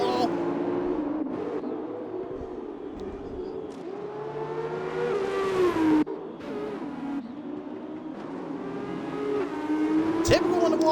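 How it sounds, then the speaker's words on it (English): Formula 2 race cars in a sim racing game at Austria, engines droning and rising in pitch with tire squeal, plus a sharp impact near the end as cars hit the wall, under excited commentary. "Like multiple cars just got in the wall."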